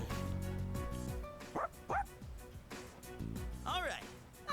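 Dog barking in the video game Persona 3 Reload, several short yips and woofs over a game music track, with a voice talking between them.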